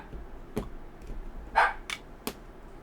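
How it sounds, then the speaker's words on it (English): A few scattered dog barks ring out faintly in the distance, isolated yaps spaced a second or so apart, behind a quiet room. "We have our dogs barking in the background"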